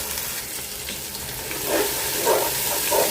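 Cumin, coriander, ginger and garlic sizzle in hot oil in a home kitchen pan, a steady close frying hiss with a few louder bursts as the spices are stirred.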